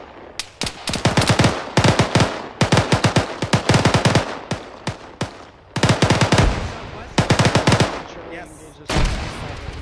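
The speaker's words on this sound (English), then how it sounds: "Oh, we're getting shot at, Jackson." Heavy machine-gun and rifle fire during a military heliborne-assault field training exercise, loud close bursts of rapid shots separated by short pauses, with a brief spoken reply.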